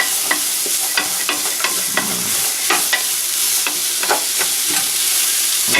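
Onion fries in a pan under steady, loud sizzling, with a utensil stirring and scraping at irregular intervals throughout.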